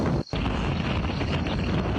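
A strong gust of wind lifts a tent, roaring steadily with broadband buffeting against the microphone and a brief dropout early on.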